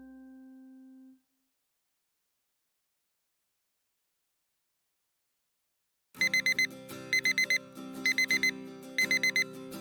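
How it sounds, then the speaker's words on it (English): An alarm clock in a visual novel rings in rapid bursts of electronic beeps, loud and steady, after a short tone and several seconds of silence. "I hit the snooze button on my alarm clock"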